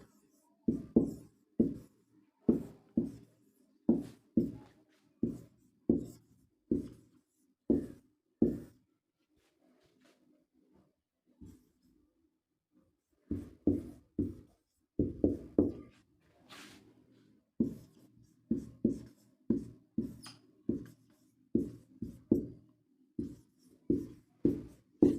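Pen or chalk strokes from handwriting a definition during a Hindi grammar lesson, heard as sharp tapping and scratching bursts in quick runs, with a pause partway through. No voices.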